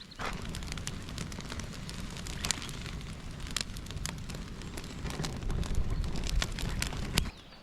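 A campfire of conifer needles and sticks burning by a lakeside in a Swedish forest, a steady close crackle with sharp pops scattered through it, growing slightly louder toward the end, with no voices.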